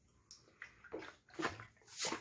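Quiet gulps and swallows while drinking water during a break, a few soft irregular slurps and splashy sips close by, faint, with no talk.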